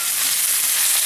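Pork chops and chopped nopalitos cactus sauté in a hot pan, giving a steady, loud, close sizzle of frying that holds without a break and has no talk over it.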